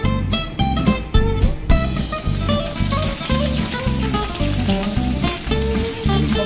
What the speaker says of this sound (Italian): Abbiamo messo un filo d'olio, uno spicchio d'aglio e andiamo a mettere la nostra scarola.